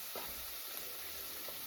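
Food sits browning in a hot pan, giving a steady, close crackling sizzle with a couple of faint clicks and no voices.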